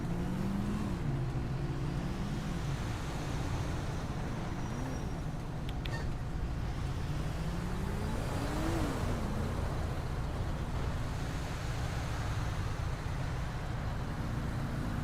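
Continuous road traffic in the video game GTA 5, with car engines droning and rising and falling as vehicles pass, a steady dense roadway rumble throughout.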